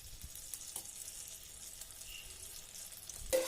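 Two spoonfuls of ghee heat and melt in a pan, giving a faint, steady sizzle under quiet room tone, with a few light ticks and a small clink at the close.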